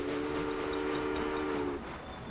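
Train in the game Railway Empire: a loud, sustained steam-style train whistle blows for nearly two seconds over continuous rolling rail rumble, then cuts off while the rumble carries on.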